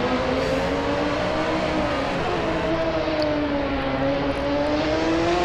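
A race car engine howls around the Nordschleife circuit in a racing game, a loud, steady drone that rises and falls gently in pitch as the car holds speed.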